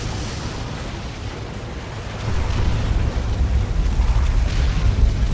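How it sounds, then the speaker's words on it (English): Orbital bombardment and Manticore missile strike in Dawn of War 2, heavy rumbling blasts that build from a dense roar into louder, thicker detonations, steady and crowded with no voices. "Orbital bombardment and a Manticore strike."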